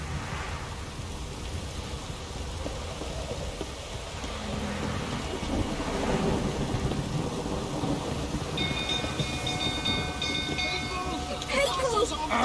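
Thunder from a lightning strike in The Witcher 3: The Wild Hunt, a broad rumble that builds and holds for several seconds amid steady game ambience, with bright chiming effects near the end.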